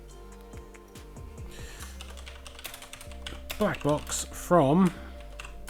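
A computer keyboard typing out a folder name, a quick run of close, crisp key taps followed by a few spaced clicks, with someone talking over the end.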